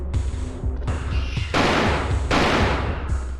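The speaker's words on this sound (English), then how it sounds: "What a fucking dogshit grenade launcher." A grenade launcher fires in the video game Alone in the Dark: The New Nightmare, sounding as a rapid series of booming, thudding shots with harsh noisy bursts, loud and continuous, with no talk over it.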